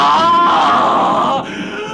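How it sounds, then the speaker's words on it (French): A man's loud, sustained scream and howl, close and strained, fading out toward the end. "je vois un homme qui court vers moi en poussant des cris, des hurlements"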